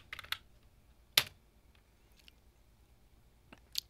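A few scattered keystrokes on a Mac computer keyboard, quick sharp clicks in small clusters with pauses between, close and fairly quiet.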